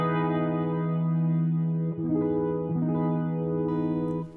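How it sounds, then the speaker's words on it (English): An EART GW2 headless electric guitar on its bridge pickup plays sustained chords with effects, ringing and overdriven, with two brief chord changes mid-phrase before settling and fading at the end; no voices. "I haven't used the tone pot here, but this is the bridge pickup again."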